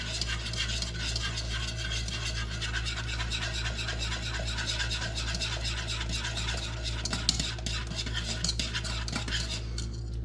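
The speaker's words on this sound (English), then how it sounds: "I'm just gonna go ahead and add the rest of this roux up in there" A spoon stirs roux into a pot of creamed beef gravy, scraping and clinking against the pot in a continuous close rhythm over a low steady hum, with no talking.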